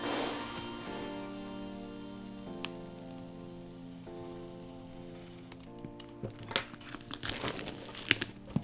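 Plastic packaging crinkles and rustles during an unboxing, faint at first over a steady background tone, then sharper, louder crackles in the final few seconds.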